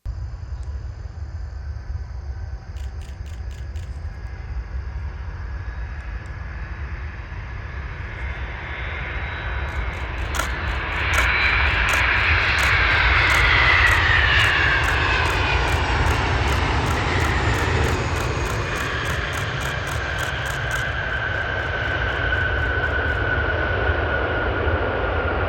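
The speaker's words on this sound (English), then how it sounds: "Next up, we have an MD-11 with a daylight arrival from UPS." A UPS MD-11 cargo jet arrives in daylight, its engine roar and whine building to a loud peak at mid-clip before easing off, over steady background rumble.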